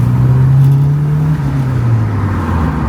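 Porsche 944 Turbo from the 1980s pulling hard, its engine droning loud and close with a steady rising-then-easing note through a short acceleration run.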